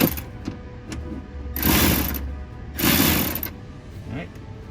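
Ratchet tightening an 8mm bolt on a car fender bracket, two bursts of rapid clicking whir close by, with faint mechanical shuffling between them.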